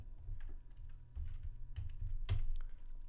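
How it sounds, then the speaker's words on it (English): Someone types a track name on a computer keyboard, producing irregular clicks and taps that come close and fairly quiet, ending with one sharper key strike, with no talk. "Type in your new name and hit the return or the enter key"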